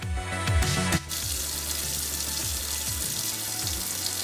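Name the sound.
tap water rinsing catfish in a sink strainer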